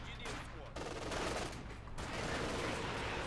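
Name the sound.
gunfire in the video game Company of Heroes 2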